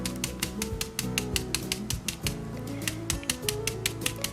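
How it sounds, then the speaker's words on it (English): A stencil brush pounces onto pallet wood for a DIY shelf, producing a fast, steady run of dry tapping strikes close up with no voices. "I'll just pounce in from the edges here"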